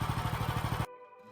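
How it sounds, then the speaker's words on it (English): A Hud Son Patriot portable sawmill engine, set to idle, chugs with a steady pulsing beat, then abruptly cuts out after under a second, leaving a faint hum and near silence. "Turn the engine off."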